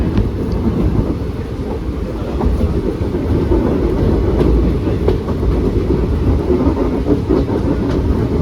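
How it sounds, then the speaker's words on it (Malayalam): A passenger train hauled by a WDP 4D diesel locomotive runs along the track on the Talguppa to KSR Bengaluru line, a steady loud rumble and rattle of wheels and carriages heard from on board, with no talk. "നമ്മുടെ ലോക്കോ ഒരു WDP 4D ലോക്കോയാണ് കേട്ടോ"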